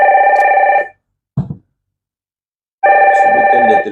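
A telephone rings in two loud, close trilling bursts separated by a pause, with a brief soft knock or thump in the gap between them.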